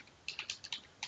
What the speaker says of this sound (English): To create a new record, you'd have to start typing